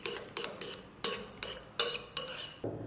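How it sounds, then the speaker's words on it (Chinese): A utensil briskly stirs beaten egg with chopped scallions and shredded carrot in a bowl, about eight sharp clinking strokes in a steady rhythm, close and alone. "搅拌均匀。"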